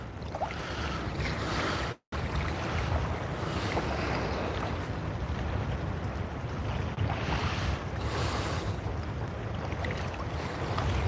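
Small lapping wavelets against a kayak on open water during bass fishing, a steady broadband wash with strong wind buffeting the microphone, continuous and fairly loud apart from a brief dropout.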